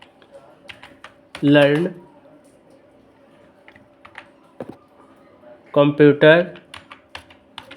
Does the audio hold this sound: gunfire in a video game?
no